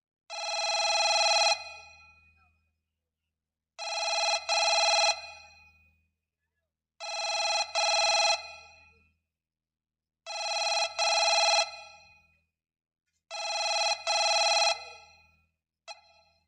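A telephone rings in five long, identical electronic bursts separated by regular pauses, loud and close. A short sixth ring is cut off at the very end.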